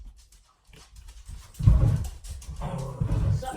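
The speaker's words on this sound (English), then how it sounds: "the dog you guys hear, that's a Taurus" A dog named Clarence barks in a few loud, rough bursts close by, starting quietly then growing stronger over the last two seconds.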